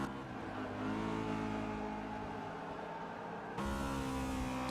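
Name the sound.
V8 Supercars racing cars in a racing video game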